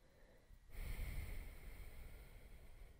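A steady, breathy rush of air exhaled through one nostril, the other held closed with two fingers, during an alternate-nostril breathing meditation. It starts abruptly after a brief quiet moment and continues close and even to the end.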